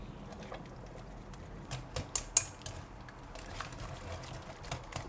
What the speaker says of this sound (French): Ensuite, nous mettons le beurre d'arachide dans la sauce. Voilà. On mélange avec un fouet.